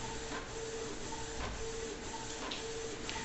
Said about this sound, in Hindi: देखिए प्रिंटिंग आपका शुरू हो चुका है